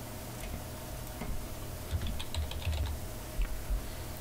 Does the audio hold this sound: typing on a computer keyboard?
yes